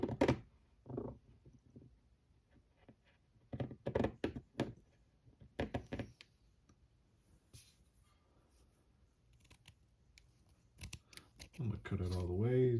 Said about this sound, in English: I'm gonna cut it all the way, throw away that.